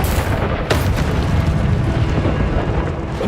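A Confringo explosive spell blast in the video game Hogwarts Legacy sets off a dense, loud, rumbling roar with a sharper boom early on, sustained and close throughout.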